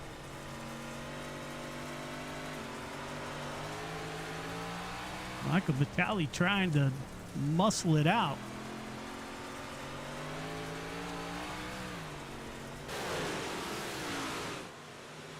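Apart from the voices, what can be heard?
dirt track race car engine, on-board view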